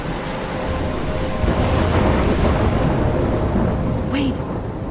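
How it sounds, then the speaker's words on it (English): Steady rain and rumbling thunder fill a stormy outdoor scene in the video game Life is Strange, a continuous loud wash of rainfall with low rolls underneath and no speech. "I'm trapped in a storm?"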